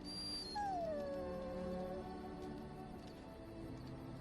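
A dog in Dragon Age: Origins lets out a drawn-out whine that slides downward and fades, heard alone over a soft ambient game backdrop.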